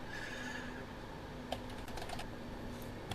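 Typing on a computer keyboard during a farming game session, quiet clicks scattered over a steady background hum with a few sharper keystrokes, no talking.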